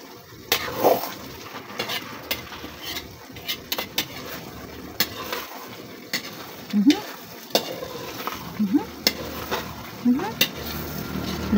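Sinantulan, a Filipino dish, fries in its own rendered oil while being stirred, a continuous crackling sizzle broken by repeated scraping and knocks of a spoon against the pan, close and fairly loud.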